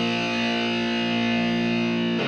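Distorted electric guitar sliding down to the first fret and left ringing open, one sustained chord that holds steady and loud before cutting off.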